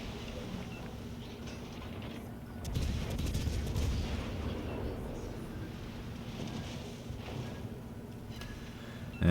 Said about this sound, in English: here's where the guns get to shine on the stationary target